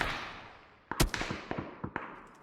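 A handful of sharp video game gunshots crack out in an irregular cluster, some close and some distant, each fading with an echoing tail, and no one speaks.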